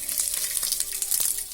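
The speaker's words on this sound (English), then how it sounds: "so fry the garlic properly, like this" Garlic frying in oil for Mangalorean chicken sukka, a steady close sizzle with dense crackling hiss and a few louder spits and stirring scrapes throughout, no voices.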